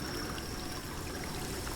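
Waterfalls in the video game The Witcher 3: Wild Hunt, set among slender elven bridges, make a steady, faint rush of falling water that stays unbroken and even throughout.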